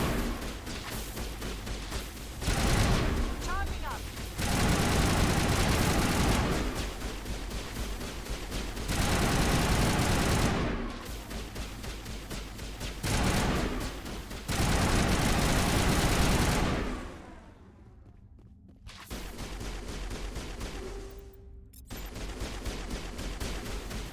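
Rapid bursts of aircraft gunfire raking walls in a video game, loud repeated volleys of several seconds each separated by short pauses, with a near-silent gap late on.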